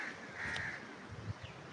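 An Asian koel calls among large mango trees outdoors, one bright rising note carrying over a steady background hum, with a fainter second call trailing after.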